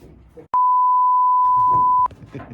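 A single loud, steady electronic phone tone lasting about a second and a half as a call goes through, cutting in sharply between stretches of quiet voices talking.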